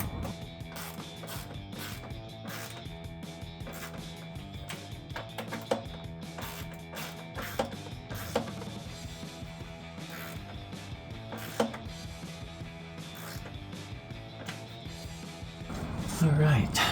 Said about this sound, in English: Got the two 10mm nuts on top. Use the ratcheting socket wrench to cinch those down.